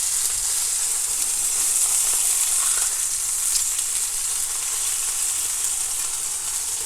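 Fish sizzling steadily in a hot pan right after being flipped, a constant close frying hiss with small crackles and no talking.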